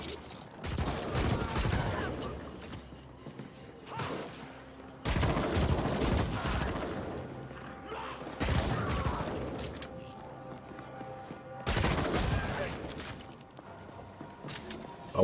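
Rapid weapon fire in the action game The Ascent, with bursts of gunshots and heavy impacts coming in several dense volleys over the whole stretch, loud, with occasional gaps.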